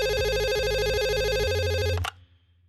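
Telephone ringtone on an outgoing call, a steady repeating electronic ring pattern, loud and close, cutting off abruptly near the end; no voices.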